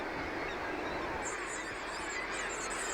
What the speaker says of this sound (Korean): 바다 철새들은 이곳에서 새끼를 부화해 가을에 남쪽으로 날아간다.